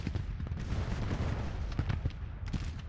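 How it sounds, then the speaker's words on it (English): Civil War artillery bombardment in Grand Tactician: The Civil War, a dense, continuous rumble of distant cannon fire with repeated booms and crackling bursts overlapping throughout. "Please bombard this area."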